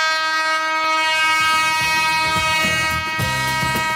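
A train rumbles at Patna railway station, loud and steady, with a sustained horn-like tone held above the rolling clatter of wagons and a few sharper knocks toward the end.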